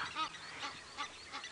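Parent geese guarding their goslings honk repeatedly while chasing off an eagle on an African safari, four short nasal honks in quick succession, moderately near against a quiet outdoor background.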